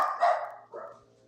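A dog barks twice on a stage, close to a live microphone, with a sharp loud first bark and a shorter second one that fade quickly.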